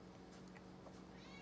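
A pet cat meows briefly a couple of times, faint and close, over a steady background hum with talk nearby.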